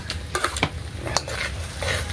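Onions stirred into a hot frying pan, a steady close sizzle with the scrape and clink of a utensil against the pan in uneven strokes, no talking.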